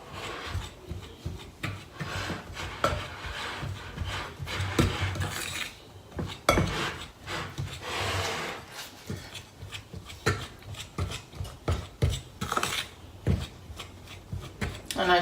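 Butter and flour being rubbed together by hand for banana bread, a soft irregular rasping and crumbling with scattered knocks against the bowl, close and fairly steady over the whole stretch.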